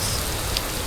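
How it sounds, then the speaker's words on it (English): Steady rain falls everywhere onto leaves and grass, a dense even patter of drops heard close with no other sounds. "Soon rain is falling everywhere, tumbling and vaulting off the leaves and sliding merrily down the grass."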